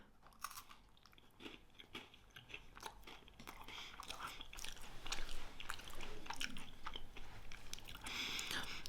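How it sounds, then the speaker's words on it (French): Someone bites into a crunchy wafer coated in white chocolate and chews it up close, sharp crackling crunches followed by steady wet chewing that grows slightly louder. "C'est une gaufrette croquante, enrobée de chocolat blanc. C'est le meilleur, c'est mon préféré et je vais le goûter."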